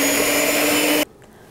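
An electric mixer whirs loudly and steadily through banana bread batter for about a second, then cuts off abruptly, leaving near silence.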